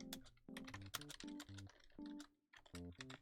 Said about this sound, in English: ASMR typing time, guys.